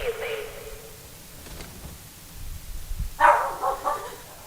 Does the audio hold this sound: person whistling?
no